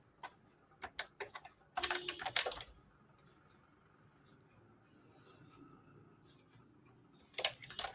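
A computer keyboard clicks as a prompt is typed, with quick bursts of keystrokes at the start, a quieter lull, then a few more taps at the end.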